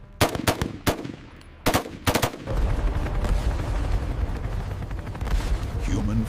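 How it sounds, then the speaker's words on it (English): Bursts of machine gun fire laying down suppressing fire in a battle scene, sharp rapid rounds in short volleys at first, then dense continuous firing with rumbling blasts under a shouting voice. "Suppressing fire, keep it up!"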